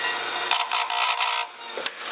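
A file or grinder works a chainsaw chain cutter in a few short, close, harsh rasping strokes. A brief pause and one last small touch follow.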